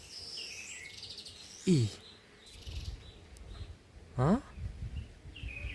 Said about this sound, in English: I'm trying to trace those birds. They're making a lot of noise from up here.